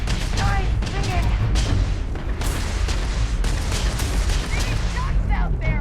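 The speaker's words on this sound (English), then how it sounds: "Shots out there." Dense gunfire from the video game Starfield, a near-continuous barrage of shots and booms with dialogue running underneath.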